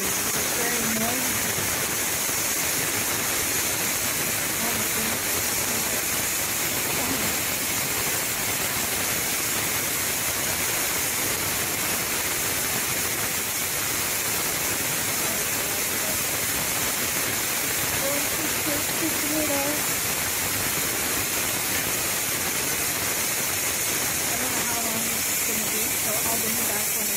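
A Ninja Foodi pressure cooker, cooking beef stew, vents steam in a loud, continuous broadband hiss that holds steady throughout, with faint voices in the background.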